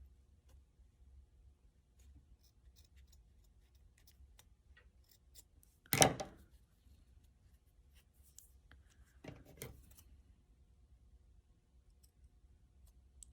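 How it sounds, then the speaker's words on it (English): Scissors snip a piece off a craft pinecone gnome, one sharp close cut followed a few seconds later by a smaller trimming snip, in an otherwise quiet room. "Actually gonna snip this piece off so you can't see it from the front"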